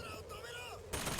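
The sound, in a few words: gunfire in video game Bioshock Infinite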